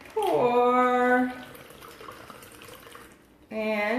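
Chilled cranberry juice martini cocktail poured from a shaker into a glass, a steady liquid stream for about a second that fades out, followed by a second short pour near the end.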